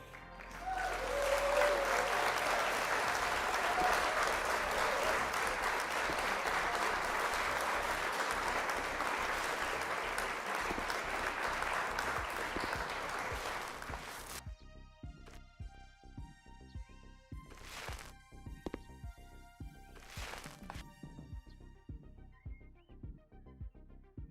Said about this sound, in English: we could have used some applause and we didn't have it